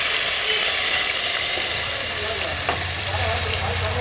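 Rice soaked in green coriander juice sizzles and fries steadily in a pan, poured in along with its juice, making a continuous hissing crackle with faint stirring scrapes throughout.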